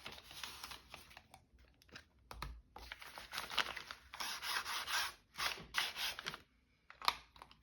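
Paper being creased and folded by hand for a junk journal, with a series of close, dry rubbing and scraping strokes that come in bursts and pauses, one sharp rasp near the end.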